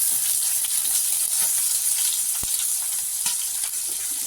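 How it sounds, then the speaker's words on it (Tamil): Fennel seeds crackle and splutter in hot oil in a pan while a potato rice is being cooked, a steady close sizzle with small scattered pops throughout and no talking. "சோம்பு போட்டு சோம்பு பொரிய ஆரம்பிச்சிருச்சு"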